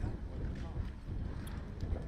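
Wind buffets a microphone at an outdoor kart track, a steady, faint low rumble and rushing noise that stays even throughout without distinct events.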